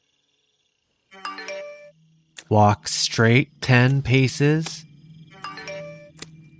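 A phone's text-message alert plays a short melodic chime twice, once before and once after a voice speaking clearly in a quiet, secluded spot.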